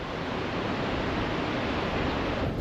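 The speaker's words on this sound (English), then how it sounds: "waves are rolling in" Ocean waves roll in at a beach around midday, making a steady, unbroken wash of surf with no distinct break or pause.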